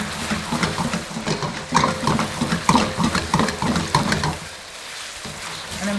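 Spaghetti being stirred and cooked in sauce in a pan for a home-style dinner, with a busy, continuous sizzle and wet stirring scrapes close by, easing off near the end.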